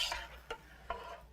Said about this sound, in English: I want to give everything a little stir so that it doesn't burn.